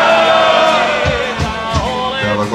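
A crowd of adult supporters shouts and bellows together at a sports event, a loud, continuous roar of voices with rising whoops throughout.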